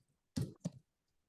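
Two quick clicks on a computer keyboard, close and fairly quiet, separated by a short gap, with near silence around them.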